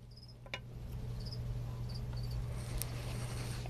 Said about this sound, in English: What is that cricket doing in there?